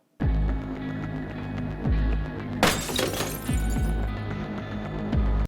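Crystal and glassware shattering and breaking as formally dressed characters trash a room in a TV drama scene, a loud burst of smashing glass amid repeated heavy crashes and thuds, with no talk.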